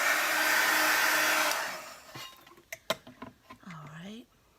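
Hair dryer blowing on a piece of paper craft work, a loud steady rush that cuts off after about two seconds, followed by small clicks and handling sounds and a brief voice.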